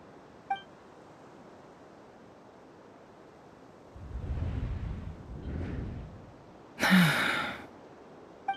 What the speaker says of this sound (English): I heard Yehuda gasp, but I don't blame her.